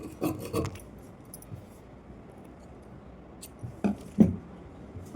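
Scissors snipping through blouse cloth during tailoring, a few quick crisp cutting rasps near the start and a couple more toward the end, separated by a quiet stretch.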